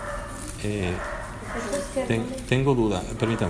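A dog barks in short bursts in the background while someone speaks over it, the barks repeating irregularly and sounding somewhat distant.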